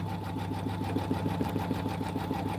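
A sewing machine runs steadily through a basting stitch around a quilt block, its fast even whir and needle rhythm holding close and unbroken throughout.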